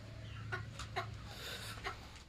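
Chickens clucking at a farm, several short clucks spaced irregularly over a faint steady background hum, moderately close.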